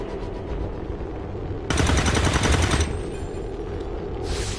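Soldiers' gunfire in XCOM 2 erupts as a loud, dense burst of rapid shots lasting about a second, followed by a quieter pause and the start of another volley.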